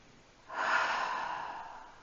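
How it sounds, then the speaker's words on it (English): A single deep, audible breath during a yoga class, a soft airy inhale or exhale swelling quickly and trailing off gradually, close and alone. "We're going to take one more breath"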